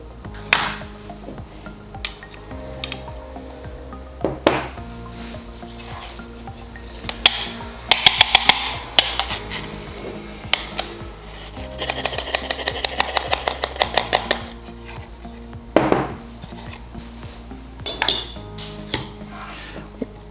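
A metal spoon scoops ground coffee into a grinder while an AeroPress brew is being prepared. Scattered clinks and scraping taps come in uneven bursts over a steady tonal hum in the background.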